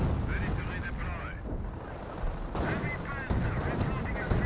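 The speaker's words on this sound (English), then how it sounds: "AT guns do get some good shots there onto this Panther" Anti-tank guns fire at a Panther tank in the Company of Heroes World War II strategy game, a heavy rumbling mix of cannon blasts and battle noise with a voice talking over it.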